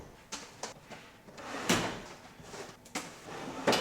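Kitchen drawer slid open and shut several times, with sharp wooden knocks and rolling scrapes spread across the moment, close and fairly loud in a quiet room.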